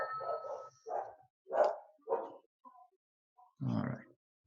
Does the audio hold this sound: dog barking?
yes